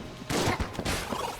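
Trash cannon weapon firing in the Enter the Gungeon video game: a dense burst of overlapping shots lasting about a second, loud and up front with no talk.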